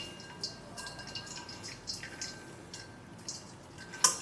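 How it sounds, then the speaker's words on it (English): Whey drains from paneer curd piled in a muslin cloth, falling in soft, irregular drips and trickles, close and quiet, with a slightly louder splash near the end and no talking. "I'm just going to take this muslin cloth and pile in a certain amount of curd onto it. And I'll drain the whey."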